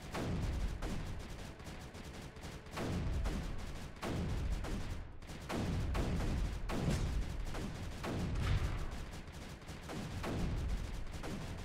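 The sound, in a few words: Bertha cannon firing in the video game Creeper World 3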